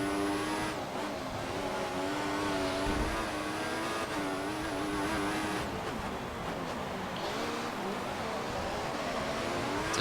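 Formula 1 race car engine at Monaco in F1 2014, pushed to the limit: a loud, high-pitched whine rising and falling through gear changes, with a few sharp upshifts and continuous revving over a steady roar.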